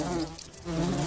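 A wasp buzzing in the fantasy video game Lords of Xulima, a continuous droning hum that dips briefly in the middle and then swells again, steady and close with no talk over it.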